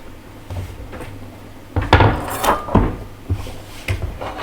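A saucepan being set on a stove while cooking stuffing for stuffed pasta: a loud clunk of metal on the cooktop, followed by several smaller knocks and scrapes close by.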